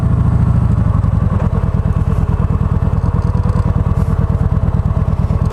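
Harley-Davidson motorcycles idling outside a hotel at night, a loud, close, steady loping engine throb with a rapid, even pulsing rhythm and slight mechanical clatter throughout.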